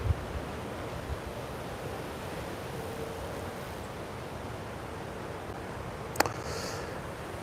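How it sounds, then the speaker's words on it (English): Strong wind roars steadily across an open field at night, a continuous broadband rush with gusting texture and a brief sharp knock near the end. "The wind is ripping."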